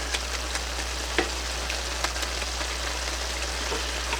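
Homemade goulash simmering in a pot, a steady soft bubbling and sizzling hiss with scattered small pops, close and continuous, no voices.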